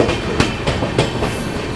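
The GKP SF Express superfast train rolls into Bhusawal Junction, its wheels clattering over rail joints in a steady rhythm, heard loud from on board with constant rumble and no talking.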